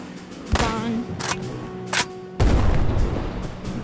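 Sniper rifle quick-scope shots in Plastic Battlegrounds, loud sharp cracks ringing out one after another, the last followed by a long booming tail.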